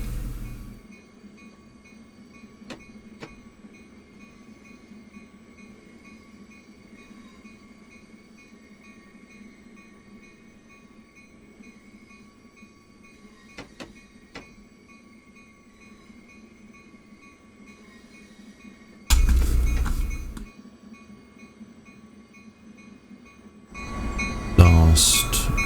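Train in Train Sim World 2020 rolling through points, a low steady rumble with sparse clicks and two loud bursts of clatter near the end.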